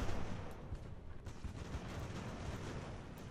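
Ship cannons fire in the naval game Ultimate Admiral: Age of Sail, a quiet cluster of booming shots over a rumbling battle background, with no talk.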